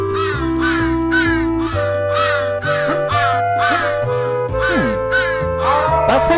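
Crows caw repeatedly in the 3D platformer Santa Claus In Trouble, a loud, regular series of harsh calls, roughly one per half second, riding over a steady, stepping game music track.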